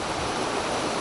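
A waterfall roars in a dense, even rush of falling water, loud and unbroken, with no voices.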